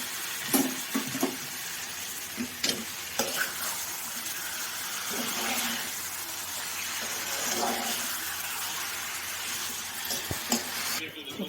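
Chicken pieces frying with onions in a pan for a restaurant-style chicken curry, a steady sizzle broken by repeated scrapes and clinks as a spoon stirs the mix.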